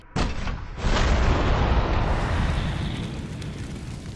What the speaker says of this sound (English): So first let's test the flame round out.